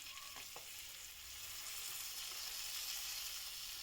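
Whole cherry tomatoes drop into a hot frying pan and sizzle steadily, a soft continuous hiss of frying with a brief clatter near the start as they land, quiet and close with no talking.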